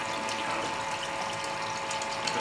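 Water flows steadily through a laboratory pipe network, turning impeller flow sensors, producing a continuous rushing, pumping hiss with a faint steady tonal hum and no talking.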